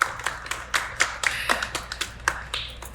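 A short round of applause from a small group, with brisk uneven claps close to the microphone.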